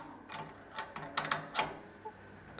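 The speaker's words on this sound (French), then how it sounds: "j'ai desserré les écrous hein, pour avoir plus de mou au niveau du bloc là" A wrench works the nuts loose on a Bayard 13CF gas water heater. Several short metallic ratcheting clicks and scrapes come in bursts, close and fairly quiet, with no talk.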